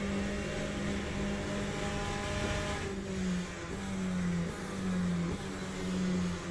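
A GTE race car in the Le Mans Ultimate sim holds a loud, steady engine drone, with the pitch dipping and rising as it brakes and accelerates through a tight, hilly section of track.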